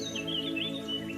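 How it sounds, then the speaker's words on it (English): Birds chirp and tweet in short, quick, high calls over a steady low hum, faint and somewhat distant, with no voices. "Birds chirping"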